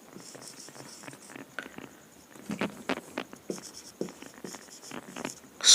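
Pen or chalk writing by hand during a Bengali grammar lesson, a close scratchy patter of short strokes in quick irregular bursts, fairly faint and heard without speech.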